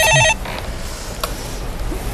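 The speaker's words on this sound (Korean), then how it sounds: "전화 또 왔네." A brief, loud burst of telephone ringing on a Korean stock-market call-in broadcast cuts off after a fraction of a second, leaving faint room tone with a few small clicks.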